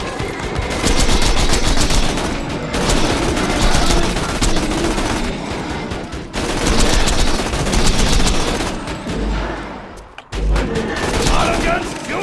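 Rapid automatic gunfire from auto gun turrets in Borderlands 2, dense bursts of shots rattling almost continuously with brief gaps and a few heavier thumps, loud and close, with a voice talking over the shooting.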